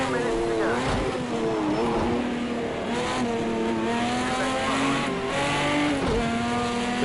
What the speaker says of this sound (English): Porsche pushing the Chevy Camaro a bit wide there.